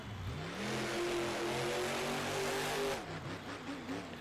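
A monster truck engine revs hard during a freestyle run, a loud, sustained roar climbing in pitch, then dropping and surging again near the end, with no voices over it.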